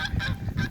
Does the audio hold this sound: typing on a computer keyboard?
no